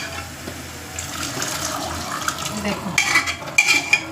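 Chickpeas and spices being stirred in a cooking pan, with scraping and clinking of a utensil against metal growing louder toward the end, under a brief spoken word.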